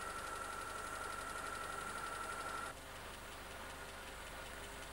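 An Austin Rover engine with an HIF44 carburettor runs at fast idle, a steady, dense mechanical drone with a whining tone that drops slightly partway through, with no talking.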